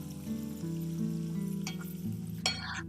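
Garlic and coriander paste sizzles steadily in a cumin-mustard tempering, with a soft, continuous frying hiss and a few faint clinks, close and fairly quiet.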